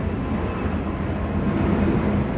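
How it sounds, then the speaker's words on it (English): A plane passes overhead as a steady, broad low roar that stays loud and even throughout, with no talking. "and as I approach, plane activity."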